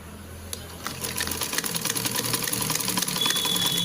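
A sewing machine runs steadily, stitching the lining onto a cross-cut blouse, its fast mechanical whir close and continuous throughout.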